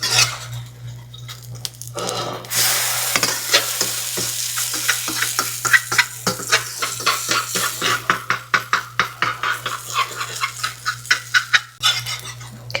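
Pancake batter frying in an oiled skillet, a steady sizzle after an initial soft scrape, then a run of rhythmic clicking and tapping over the frying hiss, with a low electrical hum underneath.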